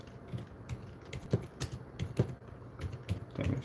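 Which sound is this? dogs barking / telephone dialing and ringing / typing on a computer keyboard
typing on a computer keyboard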